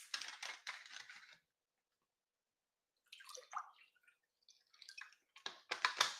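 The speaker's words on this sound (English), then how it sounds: "Time for me to pour myself some water." Water is poured into a glass in short bursts: bright, close trickling and splashing, then a pause of silence before more pouring and clinking resumes toward the end.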